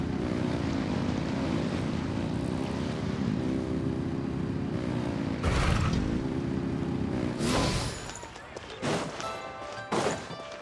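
A steady, loud droning engine with a propeller-like hum revs continuously in the Genshin Impact video game, then gives way to several sharp crashing thuds near the end.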